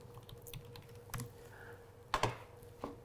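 Quiet keystrokes on a computer keyboard tap out a short word in an office setting, a few soft clicks with a couple of sharper presses near the end.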